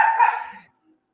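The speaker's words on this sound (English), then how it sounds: "God dang it, that dog." A single short, loud dog bark close by, ending abruptly into silence.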